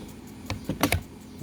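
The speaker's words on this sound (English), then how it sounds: "We got our belt tension release right here, so pull that up" The belt tension release lever on a Warrior (Harbor Freight) belt sander being pulled up, a few close, sharp plastic clicks and clacks in quick succession.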